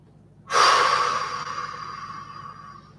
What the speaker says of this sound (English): Deeply breathing.